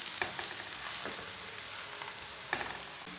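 A jaggery-stuffed paratha cooks on a hot pan with a steady, soft sizzle, broken by a few light scrapes or taps as it is turned; no one speaks.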